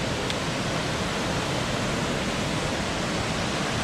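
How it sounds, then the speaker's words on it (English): A river running right beside the Great Gulf trail makes a loud, close, continuous rushing wash of water that stays even from start to finish, with no voices. "It goes right along the river."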